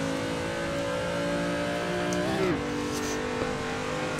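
A car engine drones steadily at high revs while drifting in Assetto Corsa, with a brief pitch dip and wobble midway as the car slides, loud and close, with no talking.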